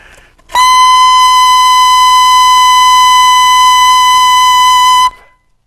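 A saxophone plays a single high A-flat, fingered as G with the side C key added, holding one loud, steady, bright note for about four and a half seconds on its own.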